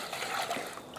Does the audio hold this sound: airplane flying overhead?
no